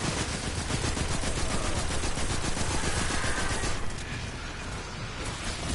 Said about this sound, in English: I'm busy shooting